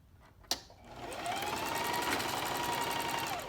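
A sewing machine with a centered needle and standard presser foot starts after a sharp click and settles into a fast, steady whirring stitch along a chalk line, loud and close, with no talking.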